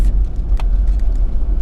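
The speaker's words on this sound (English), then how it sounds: "I'm four-wheel driving." A four-wheel drive vehicle on a muddy dirt track at Dray Track, Big River State Forest in Victoria, its engine a loud, low, steady rumble heard close up.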